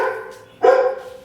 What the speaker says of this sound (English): there's the dogs